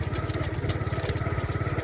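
A motorcycle engine runs steadily with a close, loud, rhythmic chugging pulse throughout, alone without speech.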